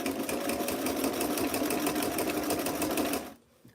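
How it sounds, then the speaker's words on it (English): A vintage-style sewing machine runs at a fast, steady whirring clatter as it stitches over a pin while sewing a dress, then stops abruptly near the end. "I'm gonna sew over my pin. And this machine should be able to handle it because she is so strong."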